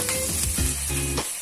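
Mustard seeds, chopped green chilies and coriander fry in hot oil as a tempering, a loud, close, continuous sizzle and crackle with no talking.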